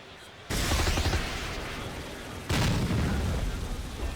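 Machine gun fire in the Megacopter video game, two dense rattling bursts of rapid shots with booming rumble, the second starting midway, loud and continuous.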